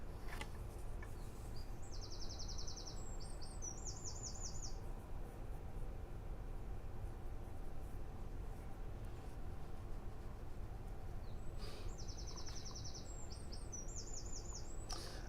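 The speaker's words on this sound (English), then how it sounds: "other various birds just twittering away" Birds twitter in two short bursts of rapid, high trilled chirps, one early and one near the end, over a steady background hiss with no talking.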